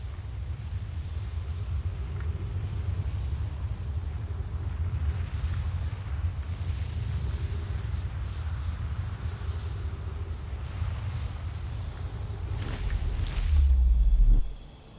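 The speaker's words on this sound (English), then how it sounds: "The storm is about over us now." Low, steady storm rumble with blowing wind in the video game Outer Wilds, a continuous dark roar that swells toward the end before cutting off abruptly, no voices.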